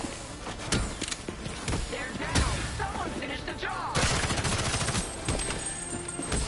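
Enemy gunfire in a Batman Gotham video game: rapid loud shots and bursts crackle close by in dense succession over a noisy battle mix, with some voice underneath.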